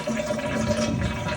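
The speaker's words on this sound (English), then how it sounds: "And now we'll flush again." Household toilet flushing after the water supply has been shut off during a leak repair, a steady loud rush of water close by, continuous and without pauses.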